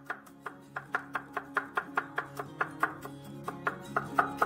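A knife finely slicing garlic and shallots on a cutting board, a steady rhythm of crisp, evenly spaced chops, about three per second, close and fairly quiet, with no talk.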